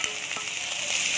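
Okra sautés in coconut oil in a pan, giving a soft, steady sizzle with a few faint crackles spread across the short stretch and no speech over it.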